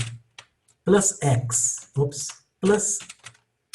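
Typing on a computer keyboard during a Linux shell-scripting training webinar, faint scattered keystrokes mostly buried under a man's close, steady talking.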